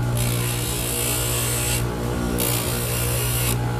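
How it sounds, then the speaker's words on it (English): Loud, continuous high-pitched whine of a power tool grinding denture teeth during a denture setting, running steadily with two brief dips in pitch and intensity. "I have to grind."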